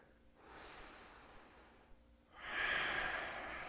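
Two slow, audible breaths while holding a hip stretch, close to the mic, the second exhale louder and breathier than the first.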